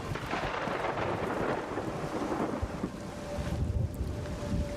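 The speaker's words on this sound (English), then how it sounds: "Storm just got a little bit tougher," A thunderstorm rolls through in the video game Everybody's Gone to the Rapture, with a continuous wash of heavy rain and wind and deep rumbling thunder swelling toward the end, no voices.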